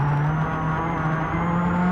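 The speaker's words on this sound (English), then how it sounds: "And we go on board the big Skoda now." Onboard a Skoda rally car at the 2003 Swedish Rally, the engine holds a steady, loud, sustained drone at high revs, close and unbroken, with no voices.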